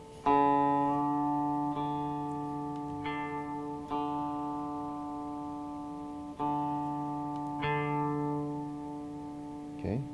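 Acoustic guitar D string plucked repeatedly during tuning, about six clear plucks each ringing and decaying, with a faint tap near the end and no talk.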